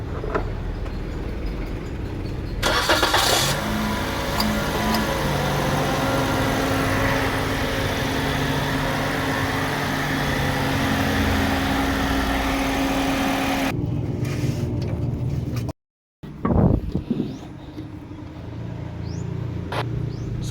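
A Toyota Vios engine runs at a steady idle for CVT fluid flushing, a continuous mid-pitched hum with broadband noise that drops briefly near the end before the idle resumes.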